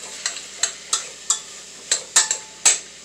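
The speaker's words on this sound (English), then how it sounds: "what we want to do is just stir them around" Vegetables for a lentil, beef and bacon soup get stirred in a pot, with about eight sharp scraping clacks of the spoon over a soft sizzle, close and with no voices.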